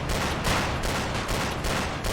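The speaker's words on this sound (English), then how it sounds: "let's fire with the armor piercing" Rapid bursts of armor-piercing 25mm cannon fire in the video game Men of War: Assault Squad, loud and sustained with repeated rhythmic thuds, no talk.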